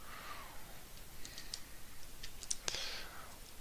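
Plastic parts of a Commander Class Optimus Prime Transformers toy fold and snap into place, a few faint, quick clicks and ticks close by, with a sharper snap near the end.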